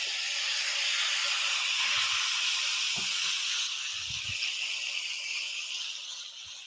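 Chicken breast sautéing in hot oil gives a loud, steady sizzling hiss close to the pan, with a few soft knocks of the pan or utensil and no talking.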